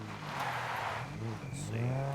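Car driven along a twisty road in the survival game SCUM, a continuous engine drone that rises and shifts pitch through turns, with someone talking over it.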